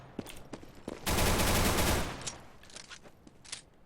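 Rapid gunfire in Counter-Strike: Global Offensive during a competitive esports match, a dense one-second burst of automatic shots flanked by scattered single cracks and distant pops.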